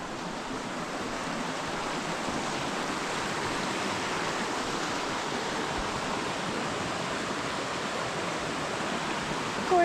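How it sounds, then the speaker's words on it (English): Marcy Brook, a mountain stream in the Adirondack High Peaks, rushes at a hiking crossing as a steady, dense broadband hiss of flowing water, constant and close with no voices. "Crossing the Marcy Brook."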